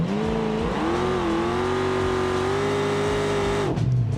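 Loud, sustained engine roar with a steady high whine as a methanol-fuelled car holds a burnout in a racing video game, pitch rising then holding level before cutting off near the end.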